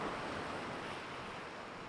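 Ocean waves wash against rocks at the beach near high tide, a steady broad rushing surf close to the microphone with some wind buffeting.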